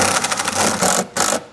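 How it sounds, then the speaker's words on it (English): A power drill drives a self-tapping screw into a metal flange while a trailer brake controller kit is being installed, giving a close, loud whir with buzzy pulsing, a short pause, then a final burst before winding down. "you can take the self-tapper and get it started first"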